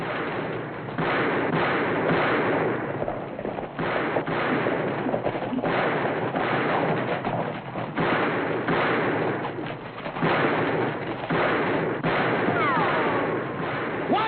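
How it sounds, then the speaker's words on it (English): Gunfire in a western film: repeated sharp shots and rumbling bursts fill a dense, noisy scene, with crowded action sounds and some voices mixed in. "Which way you shooting, Jason?"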